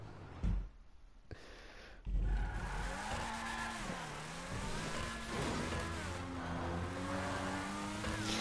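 Car in GTA 5 Online on PS4 revving and accelerating, a loud engine whine rising and falling through gear changes, with tire squeal and a few thumps near the start.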